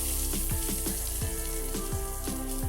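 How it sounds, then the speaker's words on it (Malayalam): Ground spice powders sauté in a pan for a dry chutney, giving a continuous loud sizzle punctuated by rhythmic scraping strokes of a spoon stirring against the pan. "നന്നായിട്ടൊന്ന് വഴറ്റി പൊടികളുടെ പച്ചമണമൊക്കെ ഒന്ന് മാറണം."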